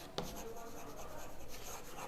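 Pen or chalk scratching briefly while writing out the dimensions of a cuboid in a maths lesson, a faint scraping stroke near the start over a quiet hissy room.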